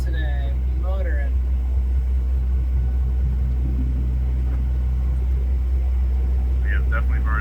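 A sailboat motoring offshore under diesel engine power, a steady low droning rumble throughout, with voices and chirpy sounds briefly at the start and end.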